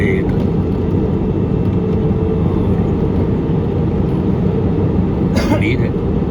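Steady, loud engine and airflow roar inside the cabin of a PIA airliner flying through thick cloud between Islamabad and Skardu in bad weather, a continuous broadband drone with a brief higher hiss near the end.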